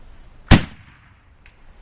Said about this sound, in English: There's one shot.